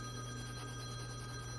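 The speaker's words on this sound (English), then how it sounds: "just pay no attention to my husband's phone. He left without it." A telephone rings faintly in the background, a steady electronic ring with sustained tones playing alone at low level in a quiet room.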